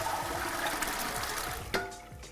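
Chickpeas are drained and rinsed under running water, a loud, close rushing stream that splashes and gurgles, then eases toward the end with a couple of knocks.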